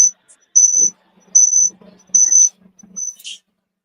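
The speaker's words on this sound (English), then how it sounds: "cricket." Cricket chirping in several close, sharp trilled bursts, three long and one brief, with a quiet low rumble beneath and a short hiss at the end.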